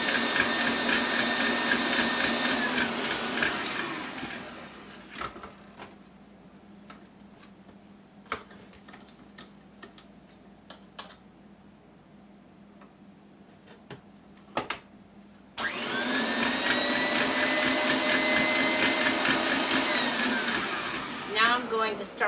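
A mixer blends butter for a large carrot cake, whirring loud and steady for a few seconds, cutting off into a quiet stretch of small clicks, then starting up again just as strongly.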